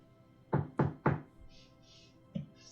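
Three firm knocks land on a door in quick succession, followed after a pause by a single softer knock, close and clear against a quiet room.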